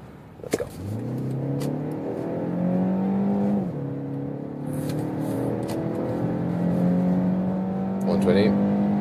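A 2023 BMW X1 23i in its sportiest drive mode accelerates hard from 45 km/h on a German autobahn, the engine note climbing steadily through gears with brief dips at shifts, loud and close from inside the cabin.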